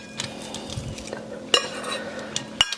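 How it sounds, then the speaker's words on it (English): Thinly sliced red onion tumbles into a bowl of cucumbers, with soft stirring and a few sharp clinks of a utensil against the bowl, close and moderately quiet. "To that, we're going to add 1 cup of thinly sliced red onion."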